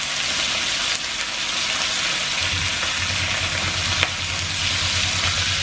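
Food sizzles loudly in a pan for a home New Year's Eve dinner in the Philippines, with a steady dense crackle and a low rhythmic pulsing underneath, no talk.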